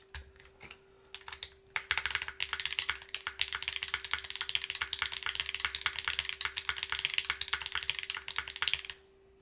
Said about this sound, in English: here's one of those NK Classic Blues, which are a little bit louder on the upstroke just because it's not a milky top